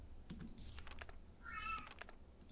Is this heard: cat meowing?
yes